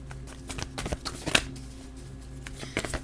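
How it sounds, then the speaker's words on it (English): A deck of playing cards riffles and snaps in quick, soft bursts close to the microphone, with scattered light taps between them. "Let me get the rest of the cards out here."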